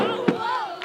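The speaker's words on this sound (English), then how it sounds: "Crowd's getting a bit rowdy on the bottom here at the moment." A rowdy crowd at a school first-team hockey match, a dense roar of cheering and chanting voices with a couple of sharp shouts, loud and continuous throughout.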